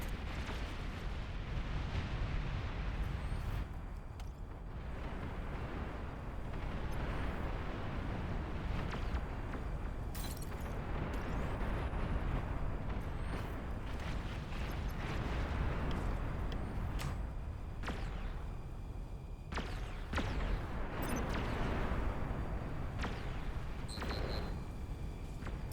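Nuclear missile strikes in a video game make a continuous, fairly faint roar of rumbling blasts and crackling debris for about 26 seconds, with sharper bursts and pops scattered through it and no voices.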